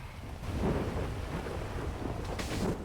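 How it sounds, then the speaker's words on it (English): Rain pours steadily in a GTA V NoPixel thunderstorm, a dense wash of noise with deep thunder rumbling underneath and a brief crackle near the end, no voices. "gosh, quite a storm."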